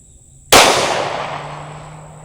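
A single sharp, loud pistol shot from an Echelon 4.0C Comp cracks close by over a chronograph, followed by a long decaying ring and echo.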